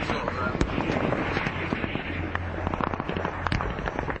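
Incoming rocket and mortar fire in Helmand during a Royal Marines patrol: a dense barrage of sharp cracks and thumping bangs over a continuous low rumble, with voices in the mix.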